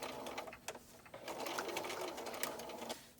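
A sewing machine stitches around the corner of a kitchen towel in short runs, its rapid mechanical whir pausing briefly between bursts as the fabric is turned.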